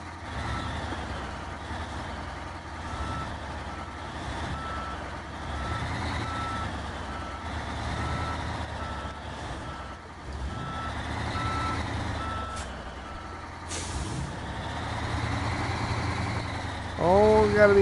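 Truck in the video game Snowrunner backing up a trailer, steady reversing beeps over a low idling diesel engine rumble, continuous and close, with some talk mixed in and a louder engine surge near the end.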